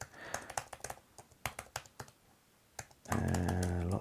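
Rapid clattering keystrokes on a computer keyboard as a password is typed in, uneven bursts of clicks close by, then a loud sustained humming drone takes over near the end.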